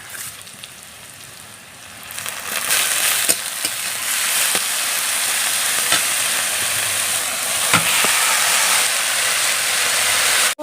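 Malabar spinach greens with chopped onion frying in a pan, a loud, steady sizzle and hiss that swells after the greens go in, with occasional close clicks and scrapes of stirring.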